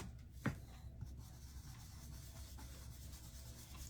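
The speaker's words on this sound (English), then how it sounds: "I'm just in some circular motions, a little bit of pouncing, just rubbing some of that" A paintbrush rubs in small circles and pounces paint onto a lemon box, a very faint, soft scratchy brushing with one brief tap near the start.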